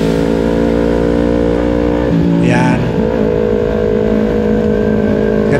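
A vehicle engine on a mountain road in Bagulin, La Union, a steady loud hum with a brief rev change in the middle, heard under someone talking.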